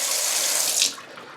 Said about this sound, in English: I'm going to fill it up as much as I need to.